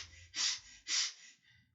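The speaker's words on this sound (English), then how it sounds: "breathing gently" Gentle breathing during a guided meditation: two soft, airy breaths in slow succession, close and quiet, with no talk over them.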